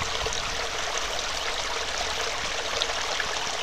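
A shelter's water source, a stream flowing with a steady broadband rush and trickle, close and continuous with no break and no voices.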